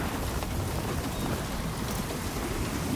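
Heavy rain hisses steadily through a thunderstorm in Death Stranding 2, a dense unbroken wash with a low rumble beneath it and no distinct thunderclap.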